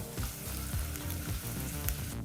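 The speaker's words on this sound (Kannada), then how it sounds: "ಈ ರೀತಿ ಇದನ್ನೆಲ್ಲ ಫ್ರೈ ಮಾಡಬೇಕಾದ್ರೆ ಫ್ಲೇಮನ್ನು ಮೀಡಿಯಮ್ಗೆ ಇಟ್ಕೊಂಡು ಫ್ರೈ ಮಾಡ್ಕೊಳ್ಳಿ" Onions frying in oil over a medium flame for ghee rice, a steady close crackling sizzle with small bubbling pops throughout and no voices.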